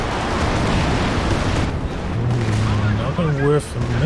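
Artillery barrage booming in Company of Heroes 2, a dense, continuous rumble of blasts and gunfire filling the whole stretch, loud and close, with a voice speaking over it near the end.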